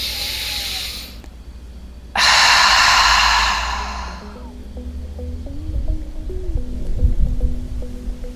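During a gentle yoga session, deep breathing: one long, loud exhale, then a second full, airy breath a moment later, close to the microphone, fading into soft low background tones.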